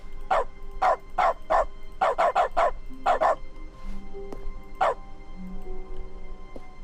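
A dog in the dog mode of The Stanley Parable barks repeatedly, sharp close woofs in quick bursts, some clustered in rapid runs of three or four, then tapering to a single bark amid quiet game ambience.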